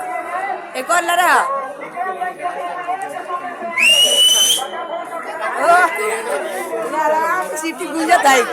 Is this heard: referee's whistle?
yes